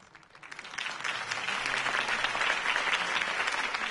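An audience breaks into applause after a campaign speech, the clapping swelling quickly from a few hands into a dense, sustained ovation.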